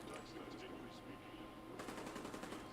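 Gunfire in Fallout 4: a rapid burst of shots erupts partway through after a quieter stretch of game ambience, fairly loud and close.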